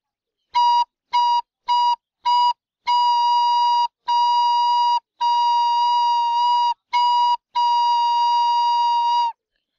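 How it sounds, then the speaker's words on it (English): A single steady recorder note, B flat, played alone, first in four short separate toots, then in longer sustained blows with brief gaps between them. "I do have my recorder, so that's what you'll be listening to"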